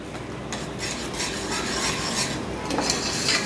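A spoon stirs falsa berry juice with black salt in a cooking pot, giving soft continuous swishing and faint scraping with occasional light clinks against the metal, close up and without talk.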